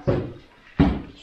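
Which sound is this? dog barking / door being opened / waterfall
door being opened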